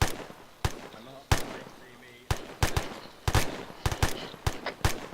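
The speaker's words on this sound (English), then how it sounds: "Charlie Fire Team, give suppressive fire" Suppressive gunfire from an Arma 3 fire team in a military training exercise: sharp bursts of shots crack out in irregular volleys, some single and some doubled, loud and close over a faint background murmur of voices.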